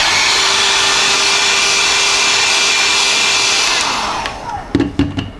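A dryer blows steadily on a TLC plate from aspirin purity testing, a loud continuous whooshing hum that winds down near the end and gives way to a few clattering knocks.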